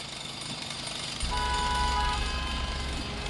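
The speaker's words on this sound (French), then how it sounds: "on parle d'un chantier devant chez vous" Construction work in front of a home makes a steady background rumble that jumps to a louder, low pounding drone after about a second, with a brief thin tone above it.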